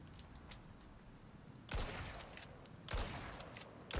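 Shotgun fire in the video game Icarus gives several loud, sharp blasts at irregular intervals, each with a short decaying tail, over a faint background.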